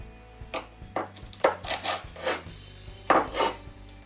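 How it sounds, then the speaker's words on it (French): A large knife trimming the base of delicate almond tuiles for a chestnut praline Yule log, giving several short, close scraping crunches against a board over a low background hum. "Puis à l'aide du grand couteau, je vais simplement couper la base pour avoir une base droite."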